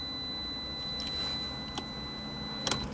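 A new car's warning chime for headlights left on, a thin steady electronic tone held close and quiet inside the cabin, with a couple of soft clicks near the end.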